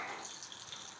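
Hot guanciale fat poured into a bowl, a brief soft liquid hiss and bubbling sizzle, close and quiet.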